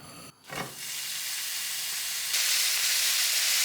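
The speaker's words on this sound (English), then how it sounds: "While the mince is cooking" Beef mince sizzling and hissing in a hot pan with Mexican taco seasoning, a steady close frying noise that swells after a short clatter and grows louder toward the end, with no talking.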